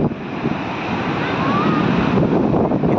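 Indian Ocean surf breaking on Krishnapatnam beach near the port, a broad steady roar of waves with heavy wind buffeting the microphone and no voices.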